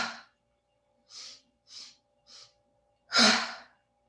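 Deep breaths during a yoga breathing exercise for grief: three short, soft exhales spaced evenly, then one long, forceful open-mouthed exhale, close and clear in a quiet room.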